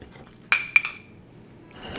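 A fork clinks against a bowl twice in quick succession while mashing avocado, bright and close, followed by quiet scraping and a faint rustle at the end.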